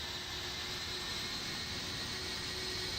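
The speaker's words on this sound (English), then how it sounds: "We got planes going through us in all sorts of ways." Jet airliners in Microsoft Flight Simulator 2024 pass close by as a loud, steady roar of engines with a high whine on top. No voices are heard.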